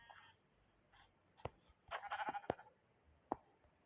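In Minecraft, a sheep bleats softly in short wavering cries among faint clicks and taps from the game.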